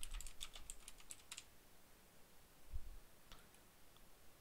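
Quick bursts of typing on a computer keyboard, close and fairly quiet, a flurry of clicks at the start, then a pause with a few scattered key taps later.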